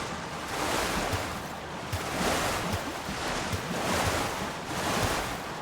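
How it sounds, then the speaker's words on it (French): A raft drifts across open water in the video game Zelda: Tears of the Kingdom. Surf and wind swell and recede in slow, steady waves, with no one talking. "Regarde comment on vogue sur l'eau."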